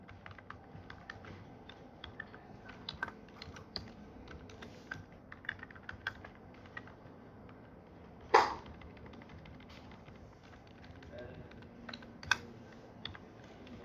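Soft, close keystrokes patter irregularly on a computer keyboard as code is typed, with scattered clicks, one louder sharp tap midway, and a quiet room behind.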